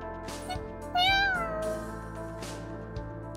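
A cat meows once, a clear rising and falling cry in a cutscene from the video game Aether Gazer, heard over a steady bed of soft game music.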